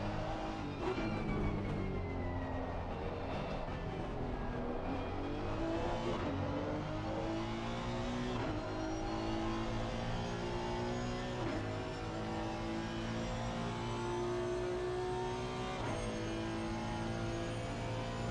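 Several race cars in a sim racing video game engines droning and revving continuously, with layered engine tones rising and falling as cars jostle close together, loud and steady with no talk.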